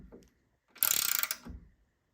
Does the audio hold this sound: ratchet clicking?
yes